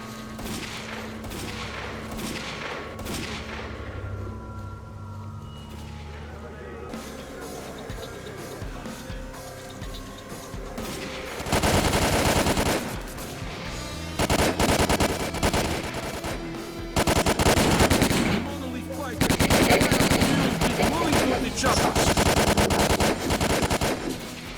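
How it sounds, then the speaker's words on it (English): In the game S.T.A.L.K.E.R.: Call of Pripyat, heavy automatic gunfire fills the air: sustained machine-gun bursts and rapid shots, quieter at first and then loud and dense in repeated long volleys. "we're taking heavy fire from an unidentified enemy."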